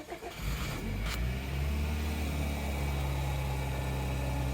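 A 2012 Kia Sportage turbo engine cranks briefly and catches, then settles into a steady, close idle with a low droning hum that continues evenly to the end.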